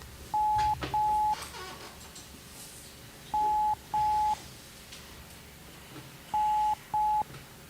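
A telephone rings out on a call line in three pairs of short, steady electronic tones, each pair spaced a few seconds apart, clear over faint background hiss.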